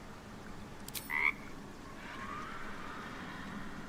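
A frightened creature in the video game Baldur's Gate 3 gives a brief croak at mid-range over a steady low ambient bed, preceded by a short clatter and followed by fainter drawn-out tones.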